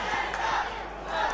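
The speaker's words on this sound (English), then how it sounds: "Well, listen to the crowd. Hunter sucks, apparently." A pro wrestling crowd at a Christmas event chants and roars in unison at the wrestler Hunter, a dense, continuous wall of many voices filling the arena.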